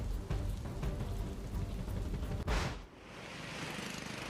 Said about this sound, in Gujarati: શાહીબાગ સહિત પૂર્વના વિસ્તારોમાં પણ વરસાદ વરસ્યો